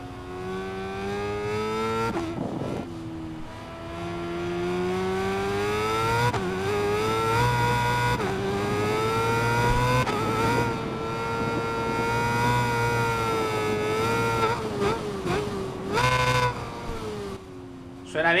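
BMW motorcycle in the racing video game Ride 5, engine revving loudly with rising and falling pitch through repeated throttle blips and gear changes, continuous and close, with a couple of brief dips between revs.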